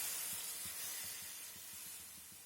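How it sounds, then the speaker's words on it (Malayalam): Hot water poured into a pan of plantain and green tomato curry gives a steady, soft hiss and spray with faint bubbling underneath, fading slightly toward the end. "ഇനി നമുക്കിതിലേക്ക് ചൂടുവെള്ളം ഒഴിച്ചു കൊടുക്കാം"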